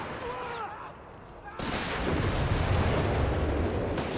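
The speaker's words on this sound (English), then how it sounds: "Panzer Pioneers right below artillery strike here" Artillery strike explosions in Company of Heroes 3, a real-time strategy game: a sudden loud blast erupts and rolls into sustained rumbling impacts, following quieter battle noise with a voice talking underneath.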